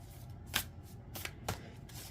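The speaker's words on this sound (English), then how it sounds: "I'm going to shuffle up these cards" Tarot cards being shuffled by hand during a reading, with a few brisk riffling bursts spaced about a second apart, close and fairly quiet, with no one speaking.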